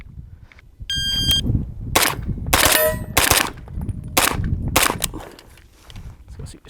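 Gunshots fired at shooting targets, about seven sharp cracks spaced roughly half a second to a second apart, close and loud, with a ringing metallic target hit and low ambient noise between shots.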